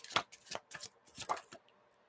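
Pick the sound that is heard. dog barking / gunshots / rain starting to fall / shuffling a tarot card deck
shuffling a tarot card deck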